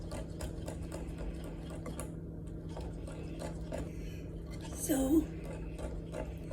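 A manual hand mixer churns chocolate cake batter with a steady, rapid mechanical whirring and clicking, close and continuous, as a voice speaks briefly over it.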